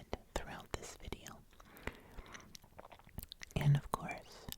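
Gum chewing in an ASMR session, heard as soft, close, wet mouth clicks and smacks scattered irregularly beneath steady whispered talk.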